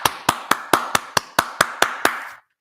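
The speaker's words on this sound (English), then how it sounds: "That was my comment. Was the hand clap." About ten sharp hand claps ring out close by in a steady, even rhythm, each a crisp smack with a short tail, then silence.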